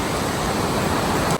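Water flowing through a tunnel on the road toward Kedarnath, a dense, steady rushing hiss filling the space, loud and close with no voices.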